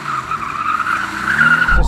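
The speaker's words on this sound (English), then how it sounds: "turn all the stability off and see if this thing will slide" A Mercedes-AMG GT R Pro slides with stability control switched off, its tires letting out a loud, continuous squeal over engine roar, close and rising toward the end.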